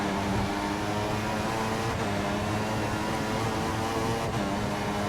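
Formula 1 car with a turbocharged V6 engine in the racing game F1 2014, at the British Grand Prix, holding a loud, steady, buzzing drone throughout with no talk over it.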